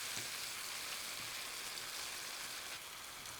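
Browned meat and onions frying in a pot for carbonada criolla, a steady soft sizzle and crackle that runs evenly throughout at moderate level, with no talking.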